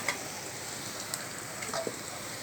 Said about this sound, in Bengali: তারপর রসুন কুচি দিয়েছি, পেঁয়াজ কুচি দিয়ে ওগুলোকে ভালো করে ভেজে নিচ্ছি